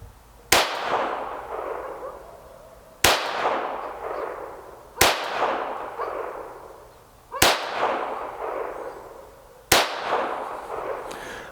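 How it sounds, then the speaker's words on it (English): Five one-handed offhand pistol shots from a Ruger Mark IV firing Norma ammunition, sharp reports spaced about two seconds apart, each followed by a ringing outdoor decay. "5 one-handed offhand shots with the Normas."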